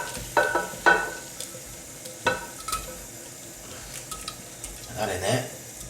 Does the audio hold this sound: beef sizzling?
yes